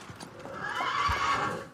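A Trait du Nord draft horse at an agricultural show, giving a close, loud whinny that rises and holds, with faint hoof knocks and crowd murmur underneath.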